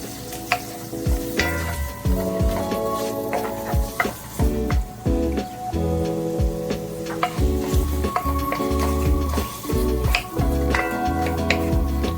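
Pepper flakes sizzle in a hot pot for fried curry fish while a utensil stirs and scrapes against the metal, producing continuous frying hiss with repeated clinks and knocks, close up and without talk.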